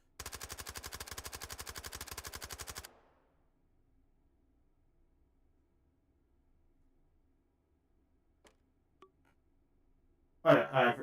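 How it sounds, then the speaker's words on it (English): Rapid automatic fire from a syringe gun in a video game: a dense, evenly spaced burst of shots lasting about three seconds, then near silence with a few faint clicks, and a short loud noise at the very end. "Syringe gun."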